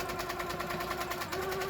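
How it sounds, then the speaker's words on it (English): A domestic sewing machine runs steadily during free-motion quilting, its fast, even needle stitching humming quietly at a constant pace with no pauses. "So this is lovely free motion quilting."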